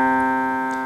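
A single keyboard note C rings out alone, a steady sustained tone with clear harmonics that fades slowly over about a second.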